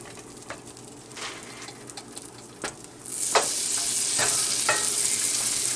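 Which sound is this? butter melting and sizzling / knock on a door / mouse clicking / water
butter melting and sizzling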